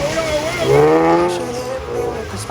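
A drift car on a circuit howls through a corner, its engine note rising and wavering with tire squeal, loud and steady throughout a short burst.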